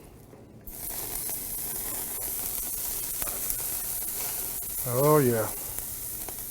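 Ribeye steaks searing on a grill, a steady close hiss of sizzling fat starting abruptly and continuing throughout, with a brief spoken exclamation partway through.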